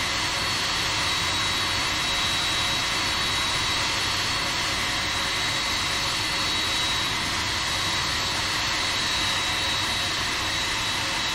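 A constant roaring whine of jet engines from a Boeing 767 freighter in a flight simulator, steady and loud throughout with a thin high tone on top and no voices.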